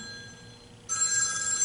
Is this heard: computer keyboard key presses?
no